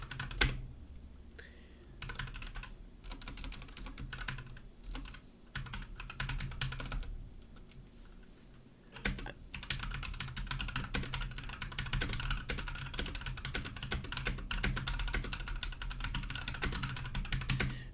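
Quick, steady typing of a letter on a Windows 10 computer keyboard, with close, dense key clicks running almost without pause and occasional brief gaps between bursts.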